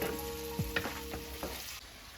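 Minced meat fries in a pan with a steady, faint sizzle, broken by a few soft scraping stirs of a spoon against the metal, quiet and close with no voices.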